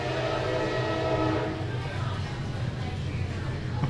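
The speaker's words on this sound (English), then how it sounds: "Oh, we have a train." A train rumbles past close by with a long horn blast at the start, fading into a steady rolling roar of wheels on rails, with a person speaking faintly.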